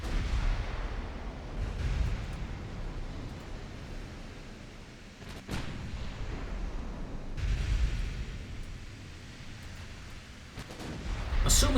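Distant naval guns in the game Ultimate Admiral Dreadnoughts rumble as a continuous roar of deep booms and thuds, a few sharper blasts standing out, with no speech.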